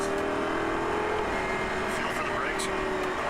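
A race car's engine drones steadily on a track as it accelerates out of a sharp turn, a continuous loud roar with an instructor talking over it.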